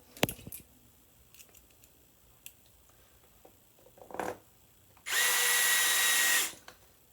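A power screwdriver runs in one steady burst of about one and a half seconds, fastening an MCCB breaker to an electrical control panel. The whirring comes after a few scattered handling clicks and a short scrape.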